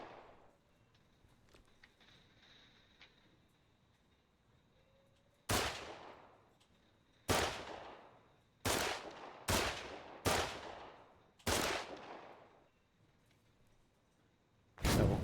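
Gunfire in the war game Foxhole: seven sharp, loud, separate shots spaced a second or two apart after a quiet stretch of distant background noise, each cracking sharply and then trailing off.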